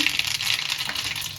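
Urad dal, mustard seeds and chili hitting oil in a hot kadhai, a bright continuous sizzle with quick crackles and pops throughout a brief moment.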